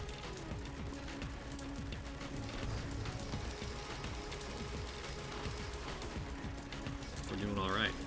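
A printer machine in the video game Risk of Rain 2 whirs and ratchets mechanically, a busy continuous churn of gear clicks that runs steadily under dense game noise throughout.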